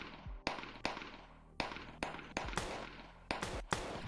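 Sharp gunshots crack out in a VRChat roleplay gang scene, about eight loud reports spaced irregularly over a few seconds, each with a brief ringing tail, and no talking.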